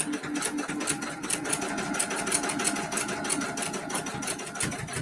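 Sewing machine running steadily while stitching a Kimberbell mini quilt, a continuous rapid mechanical whir with fine rhythmic stitch ticks, close and fairly loud throughout.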